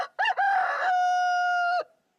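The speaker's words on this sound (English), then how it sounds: "It says here, chicken, single cock crow" A single rooster crow from a sound-effects archive recording, a loud, close cock-a-doodle-doo that opens with two short clipped notes and stretches into one long, steady sustained call before cutting off, with no other sound around it.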